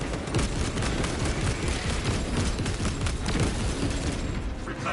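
Sustained fire support in Warhammer 40,000: Space Marine 2 rattles as dense overlapping gunfire and rumbling impacts, loud and continuous throughout.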